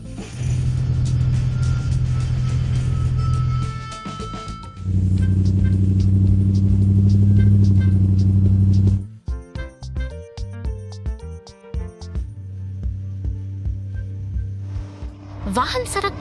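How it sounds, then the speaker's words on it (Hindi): Cartoon excavators and cargo trucks rolling along a road: a steady low engine drone with mechanical clanking and ratcheting, then choppier rumbling and clatter, with a voice talking over it. "उत्खननकर्ता और मालवाहक ट्रक लगन से अपने दैनिक सुचारू रूप से और फोकस के साथ चल रहे हैं।"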